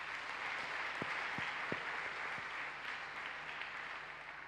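A church congregation at a worship service applauds Jesus Christ in a steady, sustained wash of clapping that fills the room at moderate volume, with a few sharper taps near the start.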